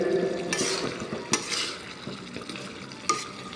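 Egg and potato curry sizzles as it is stirred in a pan, a steady frying hiss broken by a few sharp utensil scrapes and taps against the pan.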